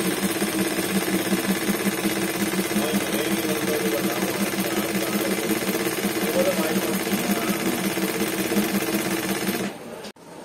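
A 5mm and 9mm Latkan automatic computerized sequin machine runs with a fast, steady mechanical stitching rhythm that holds at a constant loud level before stopping abruptly near the end.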